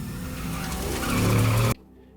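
A car engine revs hard as the tires squeal and skid in a loud, close sweep lasting under two seconds, then cuts off abruptly into near silence.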